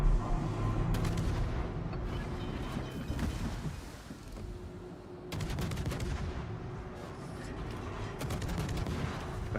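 Ship guns firing in the naval video game World of Warships, with heavy booming salvos and rumbling blasts over a dense, steady background of battle noise, loud and close.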